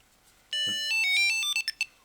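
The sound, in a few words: T-Mobile Tile tracker making its finding noise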